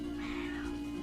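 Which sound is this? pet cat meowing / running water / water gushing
pet cat meowing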